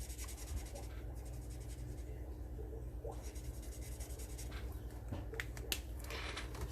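An alcohol brush marker's brush nib drawing on paper, a continuous close scratchy rubbing with faint strokes over a steady low hum.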